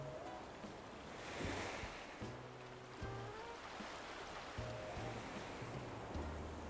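Ocean waves wash steadily in Animal Crossing: New Horizons, a soft, distant surf under faint background tones, with no talking.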